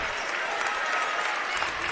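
A crowd applauding at a high school basketball game, steady dense clapping filling the gym for about two seconds, with a commentator's voice partly over it.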